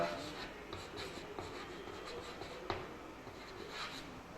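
Chalk or marker writing on a board during a physics lesson, soft scratchy strokes in short bursts with a faint tap, quiet and close, with no one talking.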